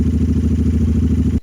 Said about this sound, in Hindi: हमें बाइक को करीब 15 मिनट के लिए चला के आइडल पे छोड़ना है